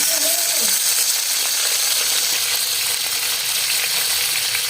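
Whole tomatoes sizzle in a karahi with roasted chicken for a Peshawari karahi, a loud, steady hiss of frying oil that stays constant throughout with no voices.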